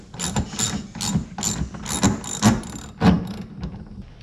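A hand ratchet tightens a mudflap bolt on a 2020 Subaru Crosstrek, about eight quick clicking bursts in an uneven rhythm, close and fairly loud.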